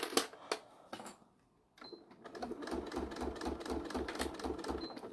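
A sewing machine back stitching over a slight mound while sewing a fabric bag, starting with a few short stops and starts, then running in a steady rapid rhythmic stitching pattern, close and moderately loud.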